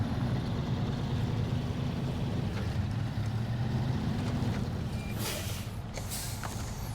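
A truck drives through water in the video game SnowRunner, with a steady low engine rumble and a wash of splashing and rushing noise throughout, plus a few sharper splashes near the end.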